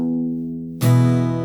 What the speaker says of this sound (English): that's just an open high E string